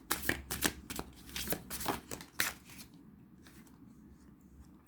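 Oracle cards riffled and shuffled by hand in a quiet room, a run of crisp flicking bursts that thins out into near silence before one final tap.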